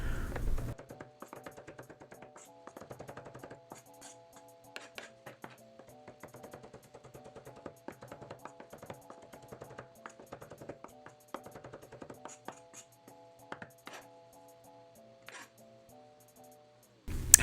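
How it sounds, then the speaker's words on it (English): Cilantro chopped finely with a knife on a board, a long run of quick, light taps in uneven bursts, close and fairly quiet, while faint music plays underneath. "I chop that up real fine"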